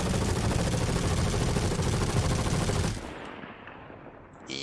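Behring FS9 light machine gun in Star Citizen firing a loud, continuous rapid burst for about three seconds, then cutting off into a quieter tail with faint mechanical clatter.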